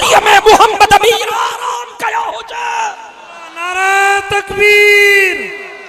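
A crowd at a religious speech shouts Allahu Akbar in answer to a takbir call: a burst of loud overlapping yells at first, then scattered cries, and finally a long, swelling unison chant.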